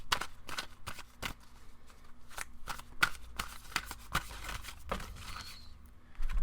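Tarot cards are shuffled by hand in quick, irregular riffles and taps, close and crisp, with brief pauses between bursts and no speech.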